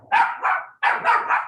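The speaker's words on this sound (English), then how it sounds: "My new puppy is like super barky." A new puppy barks loudly and close, two sharp double barks in quick succession with a short gap between them.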